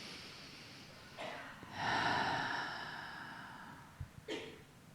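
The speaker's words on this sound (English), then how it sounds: "Take a big breath in. Let it out. And again, big inhale." A person takes a deep breath in and lets it out in a close, audible inhale then a longer airy exhale, followed by a short nasal breath, with no talking.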